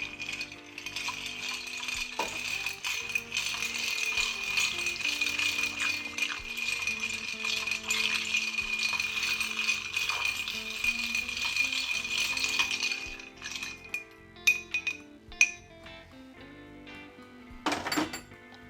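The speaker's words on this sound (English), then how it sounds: "Then stir for 30 seconds." Ice rattles in a glass as a cocktail is stirred, a continuous close jingling for about thirteen seconds that ends in a few separate sharp clinks.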